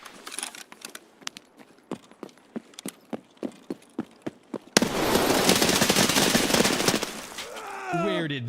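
Gunfire in the mobile battle game PUBG Mobile: a string of about a dozen sharp single shots at a steady pace, then a sudden burst of dense, loud rapid fire.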